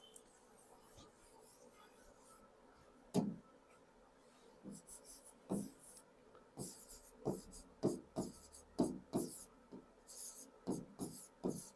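Chalk or marker strokes on a board during a classroom lesson, a quiet stretch followed by a run of short scratchy strokes in uneven bursts, fairly close, with no talking.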